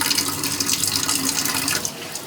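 Water runs steadily from a tap during washing up, a continuous close hiss and splash that holds for about two seconds and then eases slightly at the end.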